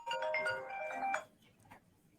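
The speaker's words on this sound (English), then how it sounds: "naturally my phone rang like right when you said my name" A phone ringtone plays during a business fireside chat, a short bright melodic run of tones lasting about a second before fading to quiet background.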